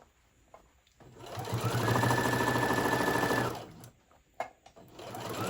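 A sewing machine stitches a lined tote bag, starting after a quiet moment, holding a steady loud whirring run for about three seconds, then stopping, followed by small handling knocks and rustles of fabric.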